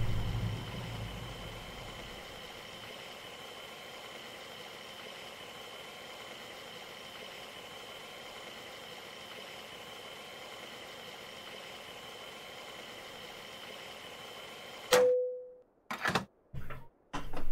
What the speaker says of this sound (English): Come on, engine, turn off.